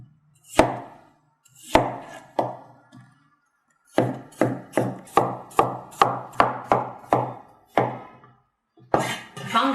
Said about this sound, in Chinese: 山药切菱形片儿。